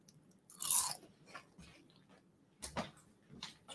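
Crunchy baked kale chips seasoned with sumac and za'atar being bitten and chewed up close, a sharp loud crunch followed by quieter scattered chewing crackles and another burst of crunching.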